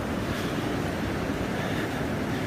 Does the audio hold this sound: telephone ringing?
no